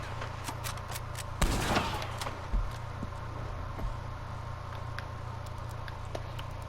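A single loud shot from an M91/38 Carcano bolt-action rifle in the Red Dead game, a sharp crack with a short tail and a softer mechanical click after, over steady game ambience with faint clicks.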